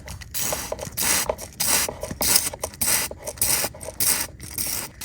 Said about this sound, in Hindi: ये पूरी तरह सूख चुका है, तो मुझे फिर से एक बार स्प्रे करना पड़ेगा।